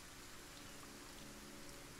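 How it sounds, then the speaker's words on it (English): Steady rain falling on a coast in the video game Kenshi, a faint, even hiss of drops with no breaks or other sounds. "It's a rainy coast, isn't it?"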